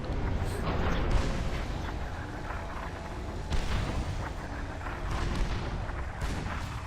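Long-range artillery firing in the strategy game Supreme Commander 2, a dense run of deep booms and crackling blasts that overlap into a rolling barrage, with sharper bursts every second or so and no voices.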